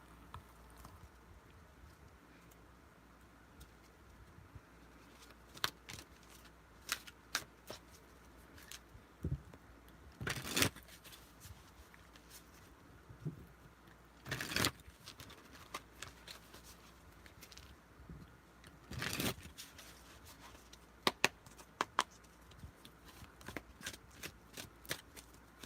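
Tarot cards are shuffled and drawn in close, crisp bursts of riffling and flicking, with quiet pauses between.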